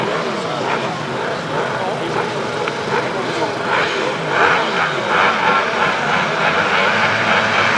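Sidecar outfits' engines roar together at the start of a British Masters grasstrack race, a loud, continuous revving drone with a crowd or commentary voice running underneath.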